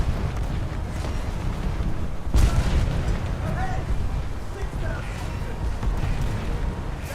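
A heavy boom from a warship's big guns lands amid a constant low, rumbling din in the HMS Repulse naval game, followed by lingering thunder-like rolling.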